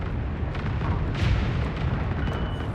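Artillery cannons fire in the Homeworld 3 space strategy game; a continuous loud rumble of battle carries a few heavier booming bursts around the middle, with no voices.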